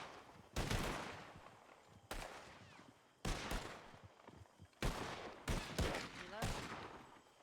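Gunfire in a Red Dead Redemption roleplay shootout: repeated loud rifle and pistol shots in sharp bursts, roughly six to eight reports with echoing tails, some close together, over a muffled background.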